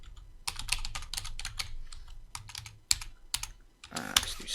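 Computer keyboard keys are tapped in quick irregular bursts, close and crisp, with short pauses between runs of clicks while calendar dates are entered, ending in a denser flurry of typing.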